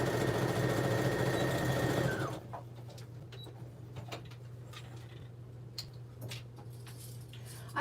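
A sewing machine stitches a tote bag in a loud, steady whirring run for about two seconds, then stops abruptly, leaving a quiet room with a low hum and faint scattered ticks.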